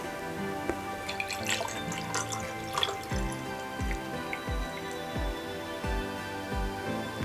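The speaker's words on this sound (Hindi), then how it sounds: "सबसे पहले हमने इसको पानी से भरना है" Water poured into a glass tumbler, filling it toward the brim: a trickling, splashing stream at first, then a run of distinct drips and bloops, close and clear against quiet.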